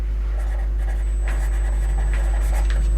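Someone writes on a classroom board during an English lesson. Scratchy strokes come in short repeated bursts over a loud, steady low hum.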